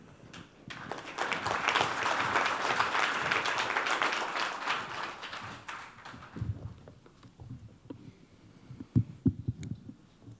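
An audience at a global vaccine forum applauds to welcome a speaker, a dense patter of clapping that builds and holds for several seconds and then fades to scattered claps and a few thumps.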